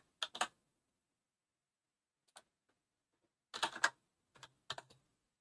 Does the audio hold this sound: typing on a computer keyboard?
yes